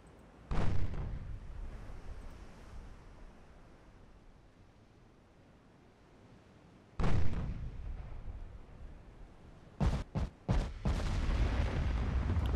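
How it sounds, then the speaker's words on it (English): Naval guns firing high-explosive shells in Ultimate Admiral Dreadnoughts boom out in heavy, rumbling blasts: one salvo early, another around the middle, then a quick cluster of several shots near the end, with a low ocean-like wash between them. "Looks like we're shooting HE at these light cruisers."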